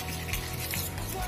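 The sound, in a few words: stirring slime mixture with food colouring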